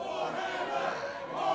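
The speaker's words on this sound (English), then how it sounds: "It's the crowd trying to get behind her here at Alliance Pro" A live crowd at an Alliance Pro wrestling show cheering to rally behind a female wrestler, a dense, continuous roar of many voices filling the hall.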